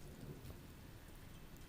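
A storm of steady rain with a low rumble of thunder, heard faintly and continuously, with no voices.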